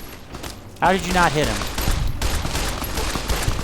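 Rapid bursts of gunfire in the video game Fallout: New Vegas, a volley of sharp cracking shots under someone talking, who continues speaking as the shooting goes on.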